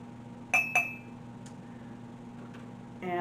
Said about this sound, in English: And then we're going to add our ice in.